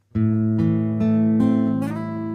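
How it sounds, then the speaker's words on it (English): A single acoustic guitar string is plucked, then slides smoothly upward in pitch to the fifth fret, ringing on with a sustained, bright tone. "as soon as you pluck it, you're going to slide up to fret number 5"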